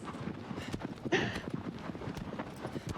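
Horse hooves clip-clopping in Shadow of the Colossus, a steady series of soft, close hoofbeats with one brief louder burst partway through.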